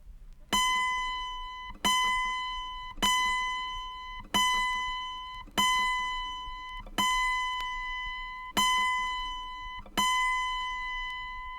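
Eight steady plucks of an autoharp's A string, the 33rd string, being tuned; each bright note rings and fades before the next, close and with no voices.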